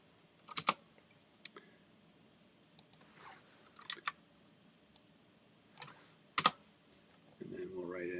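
Computer keyboard keys are struck in sparse, irregular taps and short quick bursts in a quiet room, with a faint murmur of talk near the end.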